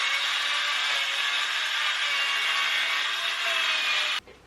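A hand saw cuts steadily through a wooden bunk bed part, a close, continuous rasping stroke that runs for about four seconds and stops abruptly, with no talking.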